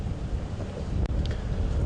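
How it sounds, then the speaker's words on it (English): Wind gusts across the bush near a lion den at Djuma Game Reserve, a steady roaring rush with microphone buffeting that runs throughout. "the mother's getting quite nervous now because the wind's picking up"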